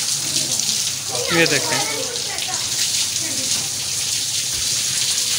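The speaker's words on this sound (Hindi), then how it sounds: "गर्मी काफ़ी है तो शावर वगैरह कर देते हैं एक दफ़ा जानवरों को हम लोग" Water from a hose gushing steadily over a heavy sacrificial bull being bathed in hot weather, a continuous hissing spray outdoors with someone speaking briefly over it.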